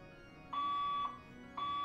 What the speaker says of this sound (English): I might have to, leave my building until this fire alarm is done